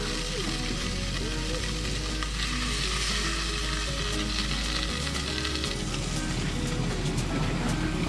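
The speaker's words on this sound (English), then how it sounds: "I'm gonna stick it in the hot butter." Crumb-coated burbot fillets fry in hot butter in a pan, a loud, dense, unbroken sizzle and crackle that runs throughout with no talking.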